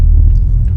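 Road repaving machinery rumbling outside, a heavy low-pitched thundering drone that stays steady and loud throughout the short stretch, with no voices over it.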